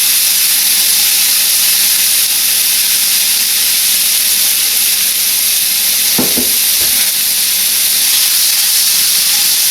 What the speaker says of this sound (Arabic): رح اقلي البصل على نار متوسطة لحد ما يدبل